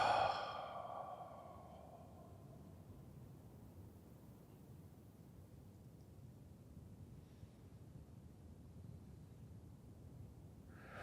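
A single soft, breathy sigh of an exhale opens the moment, close and quiet. A faint hush of near silence follows.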